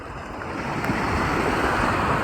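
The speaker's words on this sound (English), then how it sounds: "hopefully the ocean is not too loud" Ocean waves wash in a steady, loud roar along the shore, with wind buffeting the microphone and the surge swelling slightly louder partway through, no voices heard.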